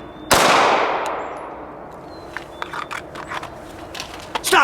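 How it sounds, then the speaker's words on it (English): A single sharp handgun shot during concealed carry drills at close range, followed by a long ringing decay and a few faint clicks and clanks. "I like to work some single shot presentations to the head, right, to that T-zone."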